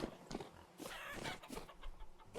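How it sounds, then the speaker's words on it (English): A chicken in the video game Vintage Story gives short, repeated clucks over a steady background hiss, fairly close and without speech. "Oh, another chicken."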